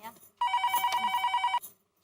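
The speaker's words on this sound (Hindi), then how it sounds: "अरे दया फोन ले जरा।" A telephone rings indoors in a home: one rapid trilling burst of about a second that starts and stops abruptly, fairly close and clear.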